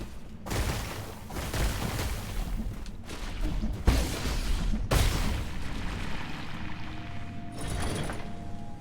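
Grenade-throwing enemies in the game Nine Sols detonating in a chaotic burst of loud booms and crashes, with repeated blasts and whooshes in close succession, each explosion sharp and near, no talking.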